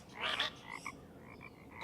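Frogs croak in a park pond, a few quick raspy calls close by over a quiet outdoor background.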